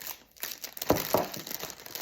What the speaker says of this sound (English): I am going to tape this under the tin container